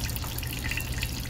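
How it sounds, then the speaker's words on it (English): A thin stream of 80 proof alcohol pouring straight from a whiskey distillery still, a steady close trickle with dripping and splashing into liquid, with no voices. "80 proof alcohol pouring straight out of a still"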